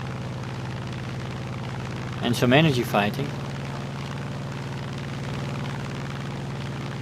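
A P-47D-28 Thunderbolt's engine drones steadily and loudly throughout a War Thunder flight, a constant propeller-engine hum with someone talking briefly over it.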